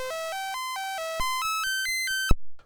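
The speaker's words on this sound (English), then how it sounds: "We don't need to hear the SID test" Test tones from a Commodore 64's SID sound chip on a repaired board play as a quick series of clean, bright, stepped beeping notes rising and falling in pitch, ending with a click.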